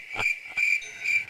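Crickets chirping in short, bright pulses, three bursts in quick succession, clear and fairly close with nothing else audible.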